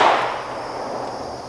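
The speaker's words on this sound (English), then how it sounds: "and fire my shot" One handgun shot fired off hand, drawn from a holster: a single sharp crack right at the start, then a short fading ring into the surroundings, loud and close with no talking.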